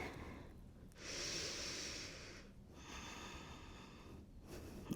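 A big, deep yoga breath drawn in slowly and let out, soft and close, with two long airy inhale-exhale swells and no talking.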